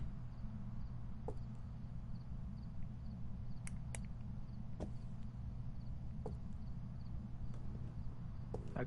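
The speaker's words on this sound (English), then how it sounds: "I can hear footsteps, and she's coming right for me." Ghost footsteps in the video game Phasmophobia: sparse, faint clicking steps spaced irregularly over a steady low droning hum, with no voices.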